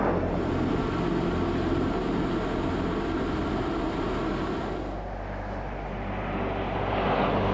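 Red Arrows jets flying in Diamond 9 formation at the Guernsey Battle of Britain Air Display, a loud continuous jet roar that eases slightly midway and then swells again.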